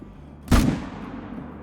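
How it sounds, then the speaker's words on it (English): A single sharp rifle shot fired at a running red deer hind in a hunting video game, loud and close, with a short decaying tail. "So we might just have to take the running shot"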